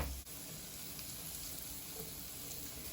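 Shiitake mushrooms sizzle in a hot pan with fat, a steady close crackling hiss that runs unbroken throughout at low volume.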